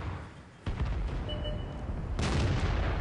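In World of Tanks, a tank gun's shells bounce off the thick front armor of a Hetzer, heard as two sharp, heavy booms a little over a second apart, each with a rumbling tail.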